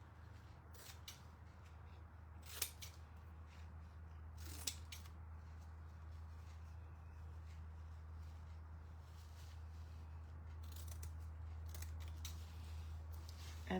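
Scissors snip through denim at an angle on a thrifted frame craft project, several short crisp cuts spread irregularly over a quiet steady hum, fairly close and soft.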